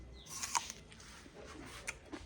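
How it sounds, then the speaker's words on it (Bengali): An apple is bitten and chewed up close, with two crisp crunches standing out against quiet mouth sounds and soft chewing between them. "আমি ফাঁকা একটু আপেল খেলাম।"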